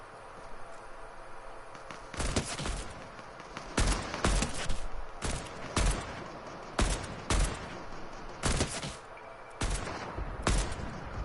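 Gunfire in the video game Fortnite: repeated loud bursts of shots in irregular clusters, some single cracks and short volleys, over a steady game background with no talking.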